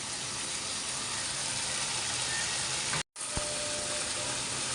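Cashew, pistachio and peanut paste hits a hot pan while mutton rezala cooks, giving a loud, steady close-up sizzle that cuts out for an instant before hissing on.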